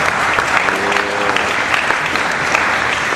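Dense audience applause and cheering at a hip-hop panel in Atlanta, a steady loud wash of clapping with a brief whistle or shout rising through it, sustained for the whole stretch.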